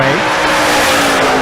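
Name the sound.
drag race car wheels-up launch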